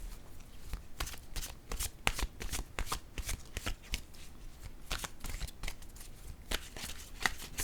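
Tarot cards are shuffled in a steady, rapid run of crisp riffling and snapping, close and fairly loud, continuing without a break and with no talking.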